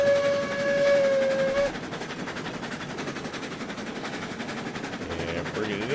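Steam locomotive in the train game RailRoads Online, a big brother to the Montezuma, hauling steadily toward a switch: a whistle blast sounds first, then a continuous rumbling rolling noise with faint clanking, all close and fairly loud.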